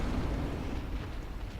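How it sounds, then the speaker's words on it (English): A boss's explosive attack in Bloodborne's fight against the Defiled Watchdog of the Old Lords: a dense, loud, roaring blast rumbles low and steady throughout, with no talk over it. "He'll kind of do a little explosion thing."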